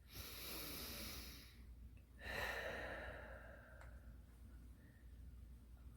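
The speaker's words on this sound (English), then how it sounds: "Back to that deep breathing." Slow, deep belly breathing, a long airy exhale followed after a pause by another breath, soft and close in a quiet room.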